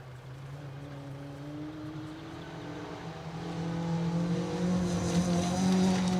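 A Toyota Corolla rally car, car 54, driving a forest gravel stage on Mt Grey in Ashley Forest, its engine note rising and growing louder as it approaches, revving hard with gear changes.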